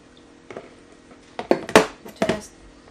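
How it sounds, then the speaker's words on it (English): Hot sauce is mixed into crispy chicken wings in a metal bowl or basket, giving a few scattered clinks and scrapes of metal on metal that build into louder clattering bursts near the end. "just carefully mix in the hot sauce, and we will add them back to the basket"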